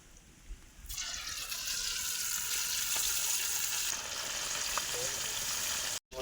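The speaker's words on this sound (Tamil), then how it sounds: "எண்ணெய் காஞ்சிருச்சு, சிக்கனை சேர்த்துக்கிடுவோம்." Chicken pieces dropped into hot oil in a pan, a sudden loud, steady sizzle and crackle of frying that starts after a moment and continues alone.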